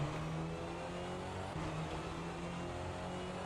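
Rally car engine in the Richard Burns Rally video game, a steady, faint mechanical drone with a low humming tone that dips briefly mid-way, then holds on, with no voices.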